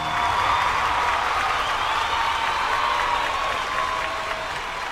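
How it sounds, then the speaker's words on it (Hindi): A large audience at a televised Bhojpuri music and talent show claps steadily throughout, a dense, sustained applause with no voices on top. "जोरदार ताली स्वागत करे के छवि"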